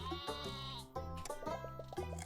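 Sheep in the Terracards video game bleat in quick, wavering cries, several calls in close succession, clear and upfront with no one talking over them.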